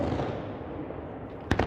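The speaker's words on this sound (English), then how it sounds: "Liuyang began to host the weekly fireworks show" Fireworks show bursting over Liuyang, a sustained dense crackling roar with sharp bangs near the end, loud and continuous with no voices.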